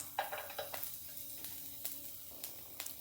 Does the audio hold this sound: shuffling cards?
no